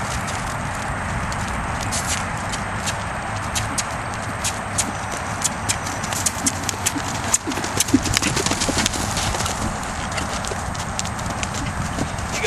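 A horse canters under a rider in an arena training session, with loud close rhythmic hoofbeats all the way through and a voice coming in now and then.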